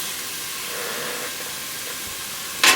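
Minced garlic and cumin seeds toasting in a hot pan, a steady close hiss of sizzling oil throughout, ending with a brief sharper burst of spattering.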